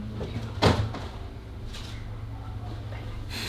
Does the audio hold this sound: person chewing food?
no